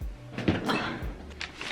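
A household door opens or closes indoors with soft thuds and rattling handling noises, fairly close and moderate in loudness, without talk.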